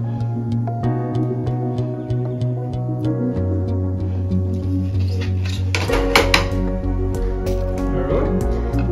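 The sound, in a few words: fried fish pieces added to the pot of curry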